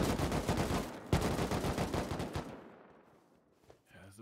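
Rapid automatic gunfire rattles in dense bursts during a team raid battle in the survival game Rust, loud at first and then fading to quieter scattered shots.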